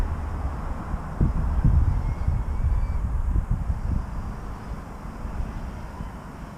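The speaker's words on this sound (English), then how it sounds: "Look at the birdies." A flock of crows caws in a few harsh calls, loud and fairly close, over a steady low rumbling wind and motor drone.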